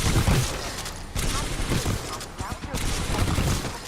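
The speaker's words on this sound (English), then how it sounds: "The L-Star's only drawback is that continuous fire causes the gun to overload" Sustained energy-gun fire from the L-Star in the video game Titanfall 2, a dense rapid stream of shots with brief gaps, loud and close, mixed with other battle noise and voices.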